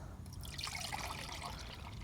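Root growth stimulant liquid is poured into a container for lawn overseeding feed, a soft continuous trickling pour heard close up, quiet and steady, with no talking.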